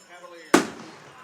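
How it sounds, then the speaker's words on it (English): A cannon fires after a touchdown at a Lehman Catholic high school football game: a single sharp, loud blast that cuts through quiet background, then decays quickly. "And the cannon works."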